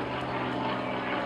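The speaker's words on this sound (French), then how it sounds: "Les hélicoptères, on les avait pas encore eu dans la vidéo" Helicopter passing over a house, a steady rotor and engine drone holding at a constant level from start to finish, with no talk.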